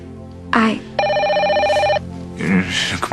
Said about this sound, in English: It's just a phone.